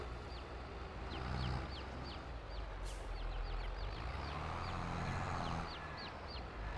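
Chickens cluck repeatedly in Farming Simulator 22, short high calls scattered across a steady farm ambience with a low rumble beneath.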